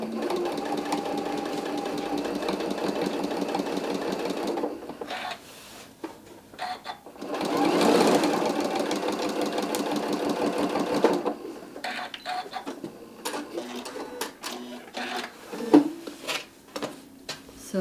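A sewing machine runs a zigzag stitch along the edge of a stocking in steady, rapid mechanical bursts, pausing briefly and restarting several times, with a louder stretch in the middle.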